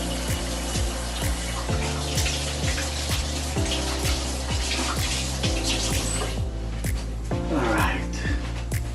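Tap water runs loudly and continuously over hands being washed with soap, a close, even gush that carries on for the whole stretch.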